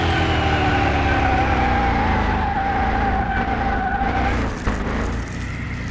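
A supercharged R2 car in Car Mechanic Simulator 2021 under full throttle, its engine droning at a high steady pitch while the tires squeal in a long slide, then the engine note drops away near the end.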